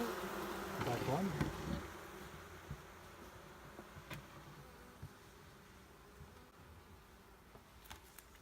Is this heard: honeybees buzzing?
yes